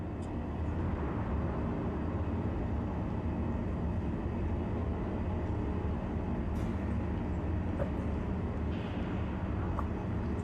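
A physical tram moves around a city in Star Citizen, giving a steady, even rumbling drone with faint clicks, unbroken from start to finish.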